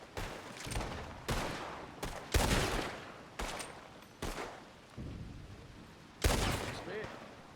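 Gunshots ring out in Red Dead Redemption 2 as a string of loud, separate cracks roughly a second apart, each trailing off with a short echo.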